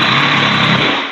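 An impact driver hammers screws into sheetrock for outlet boxes, a steady loud buzzing rattle filling the whole short burst up close.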